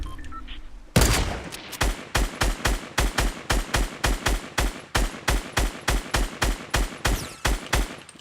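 Video game gunfire: a steady run of roughly two dozen loud, punchy shots at an even, rapid pace, fired close by and heard with no talking over them.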